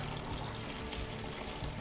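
Star San sanitiser solution poured out of a homebrewing vessel, a steady close splashing pour that runs without a break.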